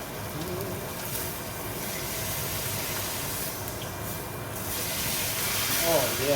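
Steak searing in a hot pan during a reverse sear, giving a steady, continuous broadband sizzle and hiss that holds at an even level close by, with no talking over it.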